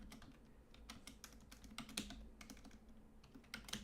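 Fingers type on a computer keyboard in a quick irregular patter of clicks, faint and close, with no talk over them.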